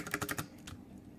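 Keys clatter on a Cooler Master CM Storm QuickFire Rapid tenkeyless mechanical keyboard with Cherry MX Brown switches, in a quick burst of four or five close, crisp keystrokes, then one more, alone.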